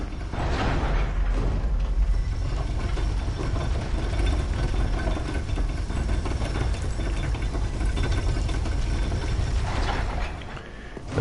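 An elevator mechanism in the video game Dark Souls III grinds and rumbles steadily throughout, a dense continuous mechanical drone with creaking texture that eases off near the end.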